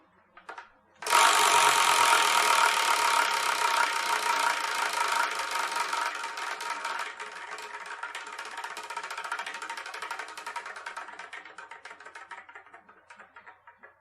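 A Wheel of Manga prize wheel spins with a sudden start into a fast, loud clattering of ticks that gradually slows and fades over more than ten seconds.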